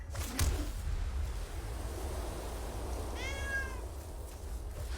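A domestic cat gives one short rising meow partway through, heard fairly clearly over a low steady background hum with a faint thump near the start.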